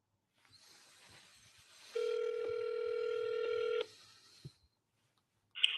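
A telephone is dialed for a cold call to a property in Atlanta: a short run of dial tones, a steady held tone of nearly two seconds, then fainter line noise and a brief beep at the end.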